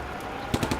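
Machine gun fire in the WWII tank game Combat Mission: Afrika Korps, a short rapid burst of four evenly spaced cracks arriving after a quiet stretch of low rumble.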